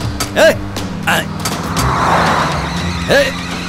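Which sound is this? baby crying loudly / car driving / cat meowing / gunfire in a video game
car driving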